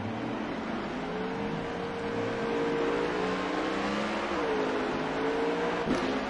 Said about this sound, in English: We're going to see them come out of pit road and get racked up and run this manual restart here